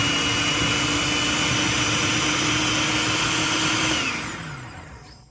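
A food processor chopping peppers and other salsa ingredients whirs at a steady, loud, close roar for about four seconds, then the motor winds down and fades out. No talking.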